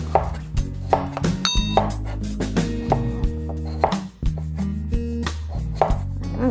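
A knife slices raw salmon thinly on a cutting board, giving sharp, regular chopping knocks in a steady rhythm, close and clear with no talk.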